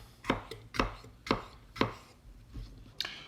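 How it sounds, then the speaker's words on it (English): A knife chops cucumbers finely on a board, giving about seven crisp, evenly spaced thuds, close and alone. "chop it up into very fine pieces"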